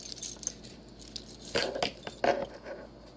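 A bunch of house keys jangles and clinks close by in a few short bursts of bright metallic rattling, with no voices over it.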